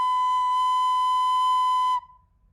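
A single steady, pure held B note on a recorder, clear and close, lasting about two seconds before stopping abruptly.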